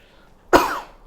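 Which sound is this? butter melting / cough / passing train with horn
cough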